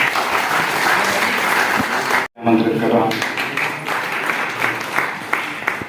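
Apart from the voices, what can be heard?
audience applause at a university website launch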